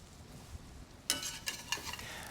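Mushrooms seasoned with salt and pepper cook down in a pan, quiet at first, then a burst of sizzling with scraping stirs and soft crackles, close and fairly faint, with no talk.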